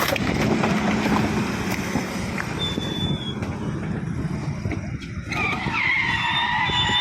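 A car skids and rams into another car on a road in Indore, a businessman's vehicle struck repeatedly and dragged about 400 metres by a drunk driver; loud, continuous grinding and scraping with tyre noise, no voices.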